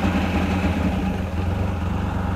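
A Mercury 100 hp outboard engine idles steadily and close by, a constant low rumbling drone with no pauses.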